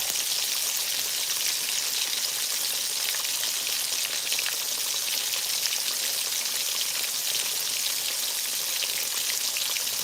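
Whiting fish coated in flour frying in hot oil, a dense continuous crackling sizzle, steady and close, with no talking.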